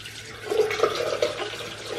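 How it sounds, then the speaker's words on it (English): Tap water runs steadily into a bathroom sink as a face is rinsed clean of makeup, with close splashing that swells and dips through a couple of seconds. "I will just continue to do this over the sink until the water runs clear"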